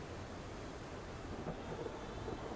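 Stormy sea thunder from The Pale Beyond, a low continuous rumble with steady roaring noise and faint rain-like hiss throughout, loud and unbroken.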